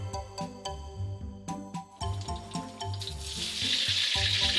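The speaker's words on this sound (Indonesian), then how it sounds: "Kila, itu minyaknya udah panas, tolong kamu gorengin tempenya ya" Tempeh fries in hot oil in a home kitchen, a soft steady sizzle beneath tonal background music, the crackling hiss swelling louder and brighter toward the end.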